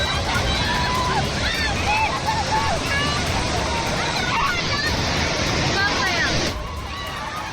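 Floodwater rushes in a loud, continuous roar and churn that has swept away a family, with agitated voices and shouts from people nearby throughout.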